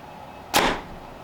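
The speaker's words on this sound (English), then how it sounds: "Paper tune it, or shoot it through paper, see what it looks like." A single arrow shot from an RX7 Ultra compound bow through paper, a short sharp whoosh and snap standing out briefly against a quiet room.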